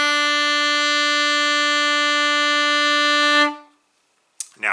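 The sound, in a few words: alto saxophone playing note B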